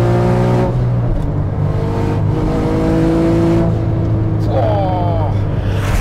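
A Porsche 9FF sports car rated at 1400 horsepower accelerates hard on a dry road. The engine roars loud and close, its pitch climbing and dropping through gear changes, while someone talks over it.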